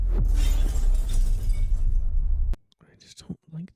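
Glass shattering effect built for cinematic sound design, a loud dense crash of breaking glass lasting a couple of seconds before cutting off abruptly, followed by faint scattered tinkles and soft sounds in near silence.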